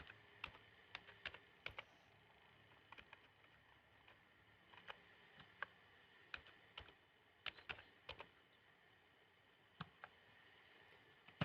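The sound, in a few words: typing on a computer keyboard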